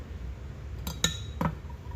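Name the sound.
stirring heated liquid plastic bait dye with a utensil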